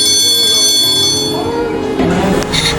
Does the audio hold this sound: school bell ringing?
yes